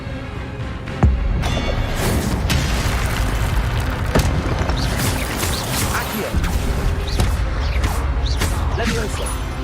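A spell cast in the Hogwarts Legacy video game, landing with a sudden boom amid dense, continuous magical combat effects, crashes and mechanical clatter, loud throughout.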